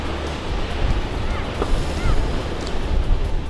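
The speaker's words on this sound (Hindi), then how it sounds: "लहरों के जोर ने उन्हें ध्वस्त कर दिया" Atlantic ocean waves surging against beach houses during stormy swells, a steady roaring wash of surf with wind buffeting the microphone, loud and continuous with no talk.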